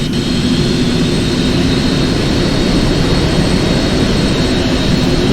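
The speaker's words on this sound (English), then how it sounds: "probably hear as well by the sounds of all these amazing different aircraft around us" Aircraft engines roar steadily and loudly at Heathrow in the flight simulator X-Plane 11, a dense unbroken jet drone with a low rumble and no speech.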